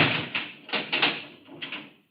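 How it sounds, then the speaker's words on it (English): Radio drama effect of a key working a door lock: several close metallic clicks and rattles in quick uneven bursts, crisp and near, then a fade to silence. "I've got to change my key to the inside of the door"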